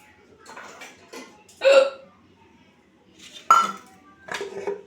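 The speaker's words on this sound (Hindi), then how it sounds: "ये हिचकी" A woman hiccups repeatedly, sharp, close, loud vocal hiccups spaced a second or two apart, separated by quieter breaths.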